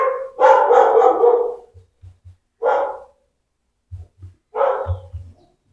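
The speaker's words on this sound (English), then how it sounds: "Dog's barking and my wife's asleep" A dog barking at home, several loud, close barks in two bursts, with soft thumps between them and no talking.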